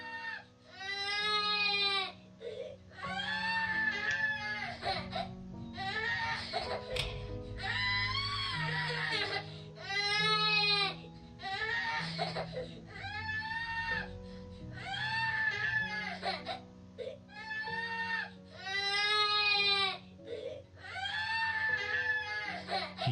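A young child in That Dragon, Cancer cries and screams in repeated loud, wailing bursts with short gaps, over a steady low game soundtrack.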